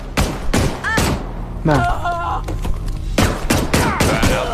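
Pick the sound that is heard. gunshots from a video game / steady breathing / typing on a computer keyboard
gunshots from a video game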